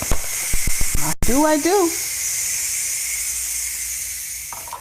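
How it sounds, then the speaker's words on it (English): A Ninja Foodi pressure cooker, making a peach cobbler with pecans, lets off its steam in a steady loud hiss that lasts several seconds. A short spoken phrase and a few clicks come at the start. "it took a few minutes for the steam to release"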